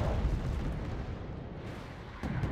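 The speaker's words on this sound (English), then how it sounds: "We do have artillery coming in" Artillery fire in the Wargame: Airland Battle 10v10 match on Ragnarok, a continuous low rumbling barrage of distant booms that swells again near the end, with no talking.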